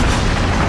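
A loud, dense explosion sealing a room shut, a continuous roaring boom filling the short moment without a clear start or decay, close and overwhelming, no talking.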